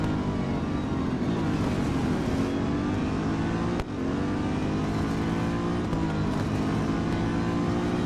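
Race car engines in Real Racing 3, with a Chevrolet Corvette C7.R leading the field, whine and roar continuously at high revs as the car pulls through a race, pitch rising and dipping with gear changes and a brief dip midway.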